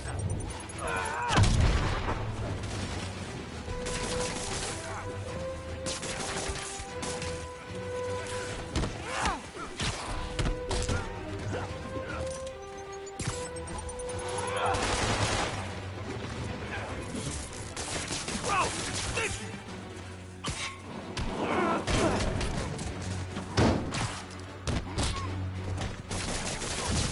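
Enemy gunfire in Marvel's Spider-Man: dense, rapid bursts of shots and impacts crackle through a busy game mix with music, explosions and character voices throughout.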